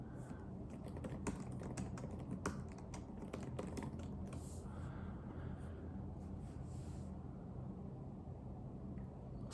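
Steady keyboard typing on a computer, a continuous run of quick close clicks with a few sharper keystrokes over a constant background hiss, no one speaking.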